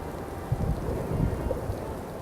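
Steady heavy rain pours down in a vicious southerly storm in New Zealand, a dense continuous wash with low rumbling gusts throughout.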